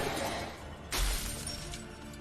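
In the video game The Wolf Among Us, glass shatters in one sudden loud crash about a second in. Bright fragments trail off over a steady low game backdrop.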